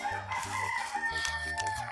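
A chicken crows loudly and clucks nearby in a home, its calls drawn out and repeated across the moment, over a steady low throbbing background.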